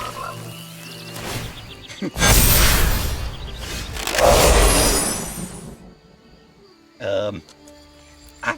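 Cartoonish frog croaks from the digital card game MTG Arena, two loud bursts in the middle followed by a shorter croak, with a voice talking quietly at the start and game sounds around them.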